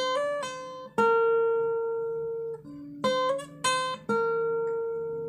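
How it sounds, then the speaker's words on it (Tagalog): Plucked single notes on a guitar, second string at the eighth fret, ringing out alone in a slow sequence of four or five clear attacks that each sustain and decay, close and fairly quiet with no talking. "Then next ay isusunod kong kakalabitin yung 2nd string sa 8th fret."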